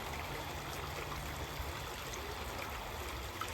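Steady rushing and trickling of a flowing stream, a continuous close wash of water with no pauses.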